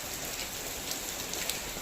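Heavy rain pours down in a dense, steady hiss that stays loud and unbroken throughout, with no voices over it.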